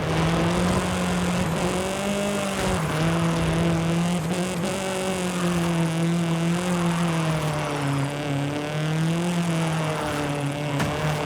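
A car engine howls steadily at high revs through a drift run in Forza Horizon 5, pitch wavering with throttle changes, close and loud with no one talking.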